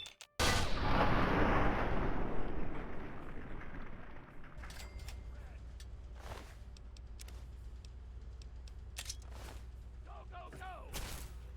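Heavy gunfire in the video game Fallout 3: a loud booming blast opens, followed by scattered sharp shots and bursts over a steady low rumble, with someone talking over the action.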